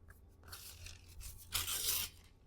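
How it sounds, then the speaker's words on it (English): Paper tearing during a frame and mirror makeover craft project, a few crackly rips in bursts with a longer, louder tear near the end, close up and alone. "You think you're going all good, and then you rip your paper."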